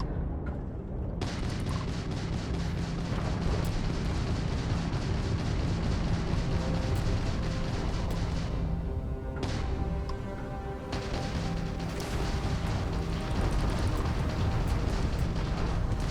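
Spaceship weapons fire in Starfield during a hard space battle, a dense and continuous barrage of booming, crashing blasts that stays loud and steady with no letup.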